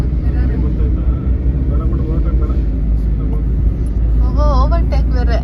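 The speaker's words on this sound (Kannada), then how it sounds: "ಇವಾಗ ನಮ್ಮ ಅಕ್ಕ ನಮ್ಮಕ್ಕ ಡ್ರೈವಿಂಗ್ ಮಾಡ್ತಾಳೆ ಅಂತ ನೋಡು" Family car on a day road trip to Mysore, driven by the speaker's sister: a steady interior engine and road rumble throughout, with people talking over it and a short melodic sound near the end.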